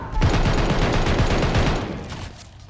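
A Bren light machine gun in Call of Duty Vanguard fires one fast, continuous burst of close, loud shots for about two seconds, then the sound tails off.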